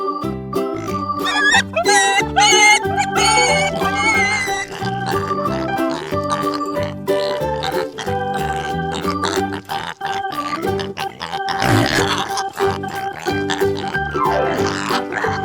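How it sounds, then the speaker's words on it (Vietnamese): A pig oinks and grunts among farm animal sounds, set over loud, continuous cheerful children's music that dominates throughout. "Pig."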